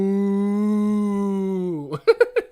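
A long, loud, sustained cow moo holding steady for nearly two seconds, then sliding down and breaking into a few short, choppy bursts at the end.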